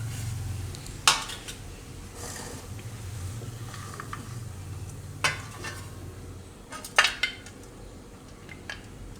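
Cooked kela poha, a Gujarati banana and flattened-rice snack, is moved onto a plate. Sharp metallic clinks and scrapes of a spoon against a pan and dish come in scattered bursts over a soft background, with no speech.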